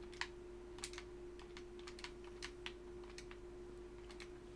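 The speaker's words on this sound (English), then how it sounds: "Unfortunately, you will have to get used to the sound of that little clicking thing" Soft, quiet clicking ticks scattered irregularly over a steady electronic hum, a small repeated interface click heard during Fallout 4 gameplay while building in a cul-de-sac settlement near Boston.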